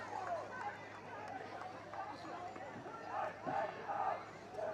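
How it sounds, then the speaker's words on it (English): A baseball crowd at a playoff game boos a timeout, a sustained murmur of many distant voices that swells in waves, with no clear speech. "the crowd boos the timeout"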